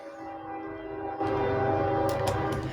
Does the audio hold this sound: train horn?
yes